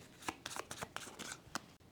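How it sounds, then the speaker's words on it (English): Standard Mysticana card deck being shuffled close up, a quiet series of crisp riffling snaps and flutters in quick irregular bursts, with no talking. "I'm going to take the standard Mysticana deck of cards, giving that a shuffle"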